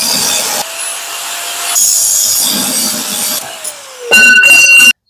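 An iron bar for a workbench is sawn through in loud, close, grinding bursts that stop and restart a few times, with a harsher final stretch before cutting off abruptly.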